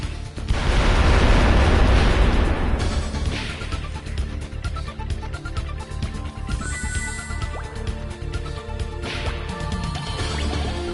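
Booming blasts from bombs set against a large boulder in the game Wild Arms 3, a loud heavy detonation followed by rumbling debris and a couple of further bursts over several seconds.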